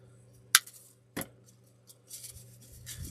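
Scissors snip through a dry grapevine wreath, two sharp crunchy cuts standing out close and clear with lighter rustling of vines between and after them.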